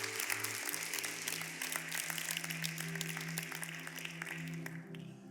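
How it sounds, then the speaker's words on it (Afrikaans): A church congregation claps a 'clap offering' to the Lord during an evening worship service. The applause is sustained and fairly dense, mixed with a droning musical tone underneath, and fades slightly near the end. "Ons gee die Here 'n klapoffer."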